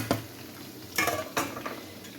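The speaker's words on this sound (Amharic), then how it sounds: "ይሄን እየጠበስኩ ነው።" Eggplant frying in a pan, with a few scraping stir sounds and clinks of a utensil against the pan over a soft, steady background sizzle, close and fairly quiet.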